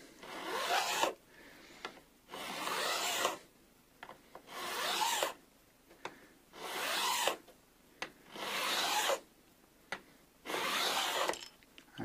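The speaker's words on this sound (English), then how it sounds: "which I'm about to do now with the fret leveling file" A fret leveling file rasps along the frets of a 1980s Kay Les Paul copy guitar in six long, steady strokes, each a bright scraping burst separated by short pauses, close and alone.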